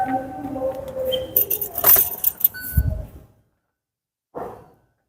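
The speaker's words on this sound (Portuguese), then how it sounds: "Vou só ligar a chave." Car keys jangle up close while the ignition key turns, with rustling and a short thud. A short, faint scrape follows after a pause.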